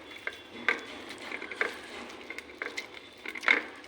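Raw sidol shutki bharta, with garlic, green chilli, raw onion and Kashmiri chilli, being mashed and kneaded by hand, heard as soft, repeated squishing and clicking strokes, close and quiet, with no talk.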